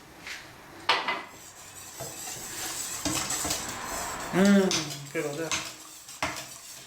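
Cannelé batter with rum being stirred in a bowl, a utensil scraping and clinking against the sides in uneven strokes, with brief talking partway through.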